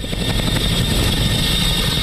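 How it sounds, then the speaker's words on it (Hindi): A Chinook heavy-lift helicopter at a forward base gives a loud, continuous rotor and engine roar with steady thudding blade beats throughout, no voices. "इंडिया टीवी आपको फॉरवर्ड बेस से दिखा रहा है चिनूक हेलीकॉप्टर, जो कि अपनी हैवी लिफ्ट कैपेबिलिटी की वजह से जाने जाते हैं"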